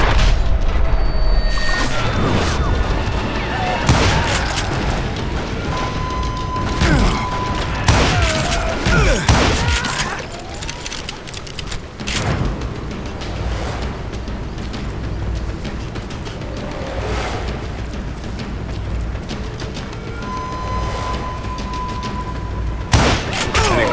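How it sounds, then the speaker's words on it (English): Gunfire crackles in Call of Juarez: Gunslinger, a Western shootout with repeated sharp shots and booms scattered over a dense, noisy game soundscape, loud and close throughout. "now that the shooting had started, there was no backing down"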